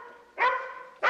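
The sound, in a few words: dog barking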